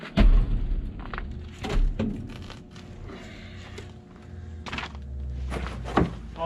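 Heavy firewood logs being picked up and dropped outside beside an outdoor wood boiler, a series of irregular dull thunks and knocks, some louder and closer, with quieter scraping and shuffling between them.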